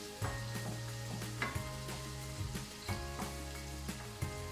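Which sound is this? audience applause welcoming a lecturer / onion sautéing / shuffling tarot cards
onion sautéing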